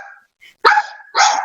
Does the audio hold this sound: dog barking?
yes